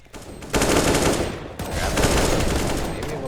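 Rapid automatic gunfire from a Counter-Strike match at a LAN tournament, two loud sustained bursts of dense shots separated by a brief break, up close with no talk.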